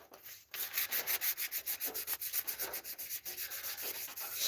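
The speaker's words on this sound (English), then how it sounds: "just 1200 grit sandpaper, wet and dry, cleaning off the old gasket residue" An engine head from a Zenoah 32cc engine is wet sanded with 1200 grit wet-and-dry sandpaper to clear old gasket residue, giving rapid, rhythmic back-and-forth rubbing strokes, close and steady, after a brief pause at the start.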